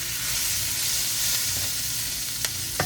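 Beef sizzles steadily in olive oil in a stir-fry pan, a continuous close hiss and crackle with a couple of sharper pops near the end and no voices.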